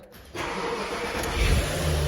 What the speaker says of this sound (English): I have unplugged the main pump, and we're gonna start the car